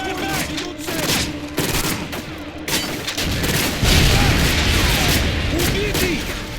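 Rapid, dense gunfire fills a Modern Warfare 2 battle scene: bursts of automatic weapons crackle and boom in quick succession, briefly pausing before resuming, with shouted voices mixed in.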